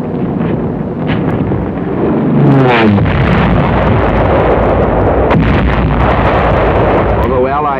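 Heavy explosions from aerial bombardment during the Ardennes offensive boom and rumble over rushing wind noise, with a rising whistle and a sustained roar of blasts.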